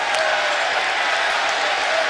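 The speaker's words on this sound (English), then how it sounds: "Crowd's going crazy." A basketball arena crowd roars and applauds continuously during a close college game, loud and dense, with an announcer's voice running underneath.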